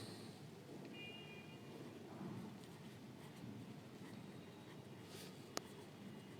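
A pen writing an amount in words on an Indian Bank fixed deposit form, a faint, close, continuous scratching on paper with a soft tap near the end.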